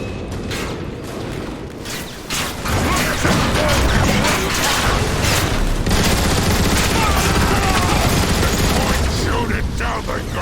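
Turret gunfire in the Transformers: War for Cybertron video game, a loud, continuous barrage of rapid shots with crashing impacts that holds steady for most of the stretch, with voices mixed into the fighting.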